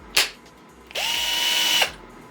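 A WORX 12V cordless hammer drill gives a brief whir, then a steady high-pitched spin of about a second with a rising start and a clean stop, close up and loud.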